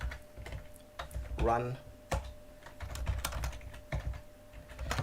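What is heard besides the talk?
typing on a computer keyboard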